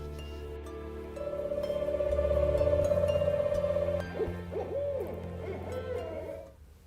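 A huge owl in Giridih gives a long, steady hoot that swells and holds, then breaks into shorter wavering calls, moderately loud over a low constant hum.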